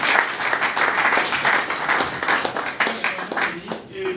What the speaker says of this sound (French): Est-ce qu'on peut acclamer tous?